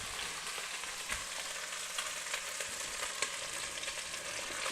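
Onions added to a pan of spaghetti sauce hiss and sizzle loudly and continuously, close up, with a few soft utensil knocks scattered through the frying and no speech.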